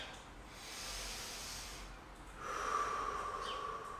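Slow, airy breaths drawn in and let out during a lower-body mobility stretch, a soft hissing inhale followed by a longer, louder exhale, close and quiet.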